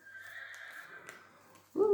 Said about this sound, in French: Oh, un beau cheval.